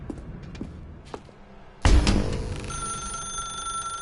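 A telephone in The Stanley Parable video game suddenly starts ringing loudly after a stretch of quiet footsteps and faint thuds, then keeps up a steady bright ringing tone with a low rumble beneath it.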